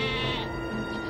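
A single sheep gives a long, steady bleat in an open meadow, close and clear, filling the whole moment with no other sounds.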